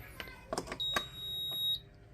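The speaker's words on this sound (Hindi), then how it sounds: "या आप बीप सुन सकते हैं कि हमारी पीसीबी ऑन हो गई है" An induction cooktop's circuit board powers on during a repair after a shorted IGBT, giving one clear, sustained electronic beep that follows a few sharp handling clicks and taps.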